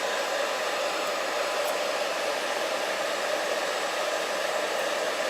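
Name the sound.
blow dryer running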